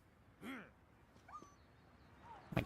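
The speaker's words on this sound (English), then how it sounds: "Oh, don't kick the dog." A dog in a video game gives a few faint, separate whimpers and yelps after being kicked, with thin whining squeals spread over quiet gaps.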